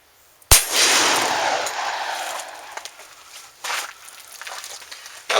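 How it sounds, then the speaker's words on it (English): One sharp, loud 10mm gunshot fires a 155 grain Underwood XTP bullet into a grizzly skull plate outdoors. The crack is followed by a long decaying rumble and a few faint clicks and thuds. "the first shot will be the 155 grain XTP from Underwood"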